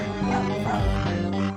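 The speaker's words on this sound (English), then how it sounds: "Also, skeleton dogs." Skeleton dogs in the Frogger's Adventures video game give off short, bow-wow barks and yips over steady game music and sound effects, with no one speaking.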